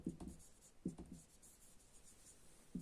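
Pen scratching across paper while a message is written, soft strokes coming in short clusters with pauses between them, quiet and close in a hushed room.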